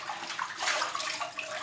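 Running water splashes over fresh spinach leaves in a colander, a steady bright hiss and patter close by, with no one speaking.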